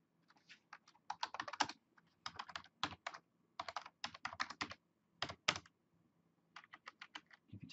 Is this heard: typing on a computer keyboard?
yes